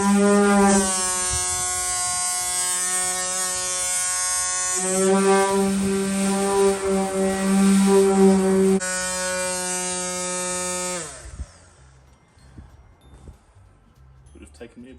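Orbital sander buzzing steadily against the sheet-metal cab back of a 1966 Chevy C10 V8 under restoration, a loud continuous whine with shifting pitch that runs for about eleven seconds, then cuts off leaving faint handling noises.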